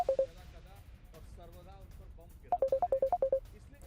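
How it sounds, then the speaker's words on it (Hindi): A mobile phone ringtone trills in quick repeated bursts during a live TV news interview about Iran, with a voice speaking faintly underneath before the ringing starts up again loudly. "शायद आपका फ़ोन आ रहा है"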